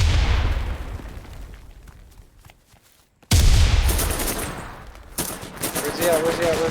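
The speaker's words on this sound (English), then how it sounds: "Grenade out!" Grenade blast and gunfire in the off-brand PUBG-style game Cuisine Royal: a loud boom that decays into quiet, then another sharp explosion followed by rapid bursts of shots close by, with voices shouting between.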